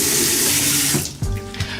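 Tap water runs loudly into a sink while a salicylic acid cleanser is foamed up in the hands, the steady rush giving way to softer splashes and drips as the flow is cut.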